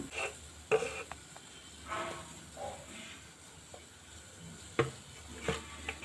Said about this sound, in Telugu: ఎండి చేపలు వేపుతామండి.